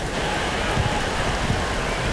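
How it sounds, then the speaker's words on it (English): Heavy rain or hail drums on the roof of a rugby league grandstand at a 1997 Newcastle Knights versus North Sydney Bears match, a dense, loud, continuous patter with no break. "It sounds like hail hitting the top of the grandstand."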